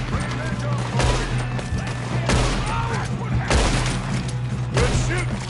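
Gunfire shootout in a Wild West video game set in the mountains, with repeated bursts of shots cracking every second or so over a steady low rumble and faint voices.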